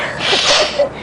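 A magpie mimics a human sneeze, giving a breathy, noisy burst with a sharper accent near the end, sounding close and fairly loud.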